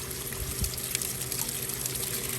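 Water flushing through the corroded block of a Suzuki outboard engine during a 100-hour service, a steady close trickling and pouring wash with faint hiss, continuous and even throughout.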